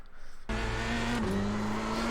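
Race car in the iRacing sim game looping round and spinning out at the final corner of the Oschersleben circuit, an engine note that cuts in abruptly and then holds a loud, steady, slightly wavering whine with tyre noise, no voices.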